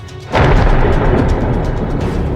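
A deep, loud thunder rumble breaks in after a quiet moment and rolls on heavily, sustained and booming to the end.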